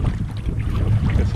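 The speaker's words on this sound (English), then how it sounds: "Got some wind coming through here." Wind gusts through a burned-forest campsite in Algonquin Park, a steady low rumble buffeting close against the microphone with no voices.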